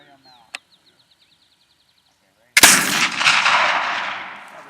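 A single loud gunshot at a primitive rendezvous target shoot, a sharp crack followed by a long rolling echo that fades slowly, after a quiet stretch with a faint click and some soft high chirps.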